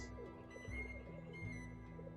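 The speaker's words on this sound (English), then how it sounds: "Pigeon." A pigeon coos softly in a Venice setting within a video game, a low, gentle murmur sitting steadily under a droning ambient music bed, with no speech.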